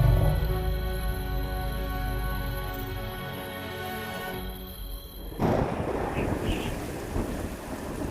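A storm breaks over Etosha's parched plains as a long, loud thunder rumble rolls close by for several seconds, then cuts off, giving way to rushing wind and rain noise with a few faint further gusts.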